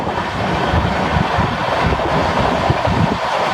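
A Goa Humsafar Express clone train rolling along the rails, a loud, steady rumble with faint rhythmic clickety-clack of wheels over joints, continuous and close, with no voices.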